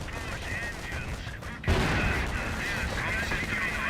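Panther tanks open fire in combat in Company of Heroes, a sudden loud cannon blast followed by sustained battle noise, with a commentator talking throughout.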